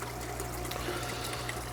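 Water runs steadily through a small waterfall feature in a home fish room tank, a soft continuous trickle and splash with a low hum of equipment underneath, faint and without any voices.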